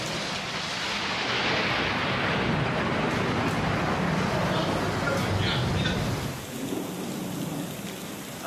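Thunder rumbles through heavy rain in a lightning storm, a loud, sustained roar of downpour with booming rolls that ease slightly near the end.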